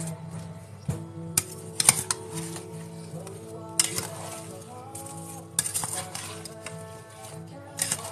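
A spoon scrapes and stirs apple pie filling in a bowl, giving scattered light clinks and knocks at an irregular pace over a quiet, steady background hum.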